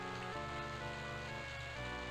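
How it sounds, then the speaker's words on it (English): Steady rain in The Elder Scrolls II: Daggerfall, a continuous even hiss of falling water like a running shower, alongside a low droning background tone, with no one talking. "is it just me or does the rain sound like basically someone was just running in the shower?"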